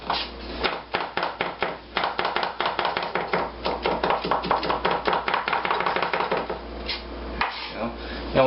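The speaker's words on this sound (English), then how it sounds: "you're going to have to do a slow chop" A kitchen knife chops garlic on a cutting board in a slow, steady series of crisp taps, close and fairly loud, with brief pauses between runs of strokes and no voices.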